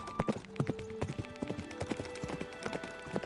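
A horse clip-clops at a steady walking rhythm, carrying two riders through the night, the hoofbeats close and clear over soft background music.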